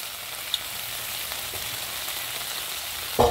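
Pizza dough with anchovy and onion frying in olive oil, giving a steady, soft sizzle that runs evenly throughout with a brief louder clatter near the end, no voices.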